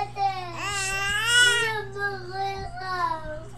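A young child crying nearby: a loud wailing cry rising and falling in pitch, then softer whimpering sobs, with a low steady hum underneath.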